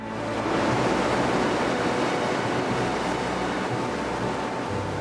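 A newly built ship moving through the water at a shipyard, a loud steady rush of churning water and wash that runs unbroken from start to finish.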